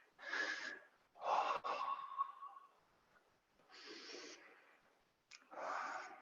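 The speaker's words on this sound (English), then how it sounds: "Big breath in." Deep, audible breaths during a live yoga class: several long, noisy inhales and exhales in slow rhythm, fairly close and moderately loud, with short pauses between them and no talking.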